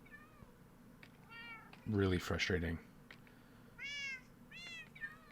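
Cats in a survival game give several high, wavering meows, some overlapping, with someone talking briefly in the middle.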